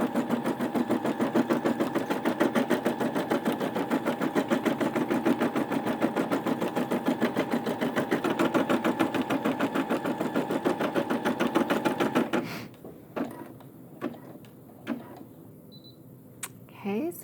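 A Brother SE600 embroidery machine stitches a single run with no stabilizer, a fast even mechanical chatter that continues steadily before stopping. A few clicks and quiet handling noises follow.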